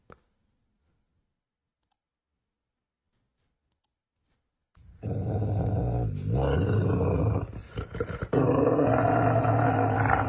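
A clearly agitated dog growls and snarls in a played clip, a toddler inches away; after a silent stretch, sustained low rumbling growls start abruptly and continue loud and close.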